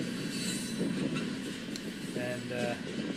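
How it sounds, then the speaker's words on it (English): A loaded crude oil train rolls past with a steady rumble, wheels squealing and rails clacking throughout, while a person talks over the continuous rail noise. "224 says that might be a loaded crude oil train"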